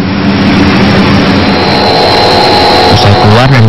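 An analog rice molding machine runs loudly and continuously, presumably extruding a dough of tuber flour mixed with water into rice-like grains; a steady mechanical drone with a high whine holds throughout, and a voice talks over it.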